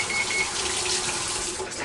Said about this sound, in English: I'm going to wash my hands.